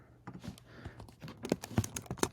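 Computer keys clatter in short, irregular bursts of typing as notes are written, close and fairly soft, with a few sharper keystrokes toward the end.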